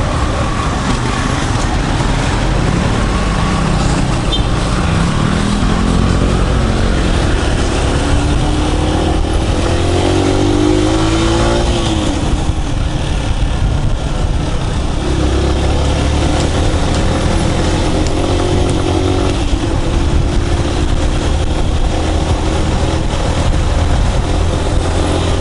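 Motorbike or scooter riding home through traffic in the Philippines, a steady loud engine drone mixed with heavy wind rush and road noise throughout, occasional pitch shifts as the throttle changes, no talking.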